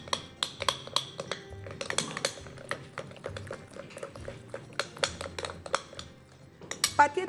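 Cheese batter for quick pancakes stirred in a bowl, a close, rapid series of sharp clinks and scrapes of utensil against the bowl in an uneven rhythm, with no talk.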